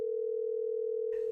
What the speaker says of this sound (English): I hear the phone.